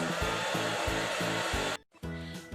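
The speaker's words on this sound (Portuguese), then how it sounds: "Porque o secador de cabelo sai bastante vento." A hair dryer blows steadily on a small toy wind-powered car, a loud continuous rushing whoosh with a brief dropout before resuming.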